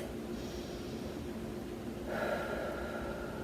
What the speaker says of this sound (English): and then 2 deep breaths